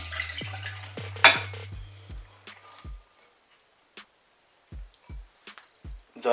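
Sticky bread roll dough with leek being moved into a larger bowl, giving a scatter of soft separate knocks and scrapes, close and fairly quiet, with short gaps between them.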